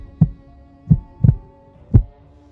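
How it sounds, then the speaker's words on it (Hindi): Four deep, thudding heartbeats sound in quick, slightly uneven succession, close and prominent, as a racing pulse effect standing alone without any voice. "उसकी धड़कनें तेज होने लगी थी"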